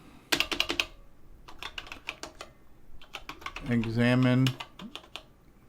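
Clattering keystrokes on a CoCo computer keyboard come in quick bursts at the start and again in the middle, with a voice speaking briefly between them, close and fairly loud.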